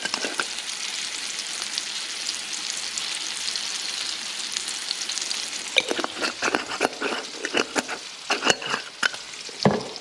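Butter and Worcestershire sauce sizzle steadily in a frying pan, with crackling bursts and scraping stirs that grow more frequent and sharper in the second half, no voices.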